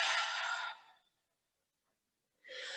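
A deep breath during a gentle yoga session: one long, soft, breathy exhale lasting about a second, then a pause of silence before another airy breath begins, close and clear with no talking.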